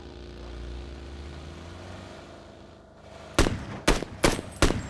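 A propeller aircraft drones in the background of a video game match, then several loud, sharp bursts of gunfire crack out in quick succession near the end, with no talk.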